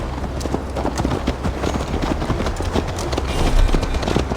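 Horse hooves clip-clopping at a steady gallop in the video game Assassin's Creed Valhalla, loud and close, with a continuous rhythmic beat throughout.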